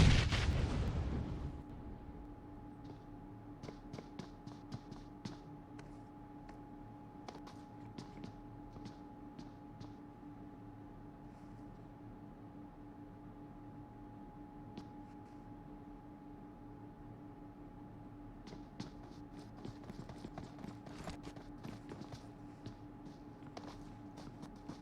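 Scattered gunfire from a PUBG Mobile match at an esports tournament, short distant cracks and bursts spread irregularly over a steady low hum, with a loud burst at the start.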